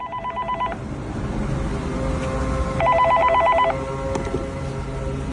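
A phone booth telephone rings in a patterned electronic trill that sounds in two bursts separated by a pause, loud and close, over a murmuring background.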